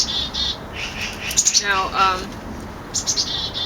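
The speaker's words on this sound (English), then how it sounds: "I fed the birds, so they're especially happy with me. They keep talking to me." Pet birds chirp and squawk in short, sharp bursts and a brief chattering trill nearby, scattered through the clip while a person speaks a word over them.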